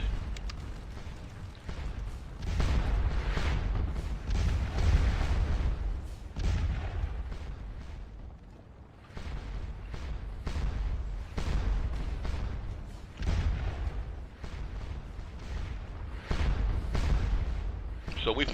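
Booming artillery from Napoleonic-era guns at the Battle of Ligny in Scourge of War: Waterloo fires in repeated heavy bursts over a continuous rumble of battle noise, with someone speaking over it.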